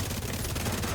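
Video game gunfire during an offensive push, a dense stream of quick shots forming a steady rattle at moderate level with no clear gaps across the second.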